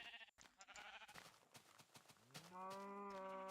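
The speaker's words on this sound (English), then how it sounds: "Moo. Moo goes the cow." A Minecraft cow gives one drawn-out, tonal moo near the end, loud and clear, after a stretch of busy game clatter and faint sounds.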